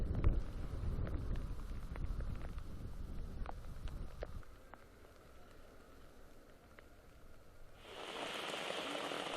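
Steady rain patters on a surface during a wet July day in Nampo, with broadband noise, a few scattered sharper drops, a quieter stretch midway, then a louder hissing wash near the end; no voices.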